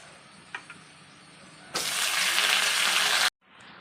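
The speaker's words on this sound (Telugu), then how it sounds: "ఇప్పుడైతే పోపు పెట్టేస్తున్నాను. ఆల్రెడీ ఆయిల్ 2 స్పూన్స్ వేసి వెల్లుల్లిపాయలు, ఎండుమిర్చి, ఆవాలు, జీలకర్ర అయితే వేస్తాను." Garlic, dried chillies, mustard seeds and cumin hit two spoons of hot oil for tempering, a couple of small pops giving way to a loud, steady sizzle that cuts off abruptly.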